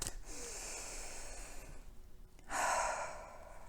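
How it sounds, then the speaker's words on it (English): A slow, deep breath taken close to the microphone: a long, steady airy inhale, a short pause, then a louder, fuller exhale, with no talking. "take a big, deep breath with me"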